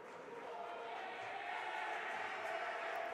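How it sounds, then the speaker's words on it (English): Fired-up crowd at a college women's ice hockey game between TCNJ and NYU in an indoor rink, a steady broad roar of many voices sustained loud and even throughout, with no single voice standing out. "And now the crowd gets fired up."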